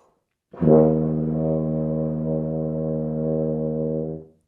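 A single low tuba note, E flat, held steady for about four seconds, full and resonant, played alone with no other sounds.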